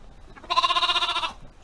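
A single ewe bleats once, a clear wavering cry of under a second, fairly close on a quiet farm with faint background.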